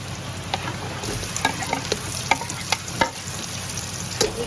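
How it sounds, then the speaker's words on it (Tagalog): A dorado fish head sautéing in a pan with onion, garlic and ginger: constant close sizzling with scattered clicks and scrapes from stirring, loud and steady, with no talking. "Igisa po muna yung ulo ng dorado"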